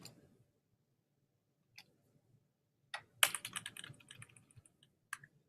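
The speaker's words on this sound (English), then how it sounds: "notice how I'm using the arrow keys to get exactly to where I want" Computer keyboard arrow keys tapped while navigating a video-editing timeline: a few isolated clicks, then a quick burst of close, crisp keypresses followed by one more tap, with no talking.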